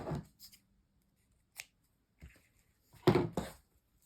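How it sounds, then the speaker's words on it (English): Scissors snipping through ribbon for chair wreaths, a few sparse, separate cuts near the mic, the last one a louder double snip, with quiet gaps between. "I'm going to cut at about 18 inches per ribbon"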